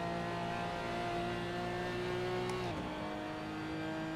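A Porsche GT4 Clubsport in a sim racing game at the Nürburgring revs up steadily under full throttle, then shifts with a sudden drop in pitch before climbing again, a continuous engine drone with no talk.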